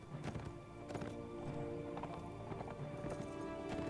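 Hooves clatter in a quick clip-clop as horses gallop in the Warsword Conquest video game, with a neigh rising over the rhythm, quiet and steady throughout.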